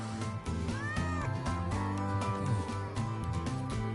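A frightened cat meows repeatedly in wavering, rising and falling cries over a dense background of music, near and fairly loud.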